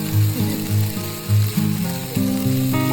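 Food sizzles and fries in a pan at a camp on Mount Raung via Kalibaru as fried rice, nuggets, chicken and egg are cooked for breakfast, with steady hissing and rhythmic scraping and stirring close by.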